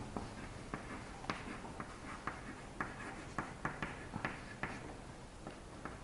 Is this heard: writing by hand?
yes